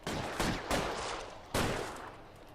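Gunfire in the video game L.A. Noire during a SWAT-style street shootout: several loud, overlapping shots and bursts fire in quick succession, each with a sharp crack and a long echoing tail, and no talking.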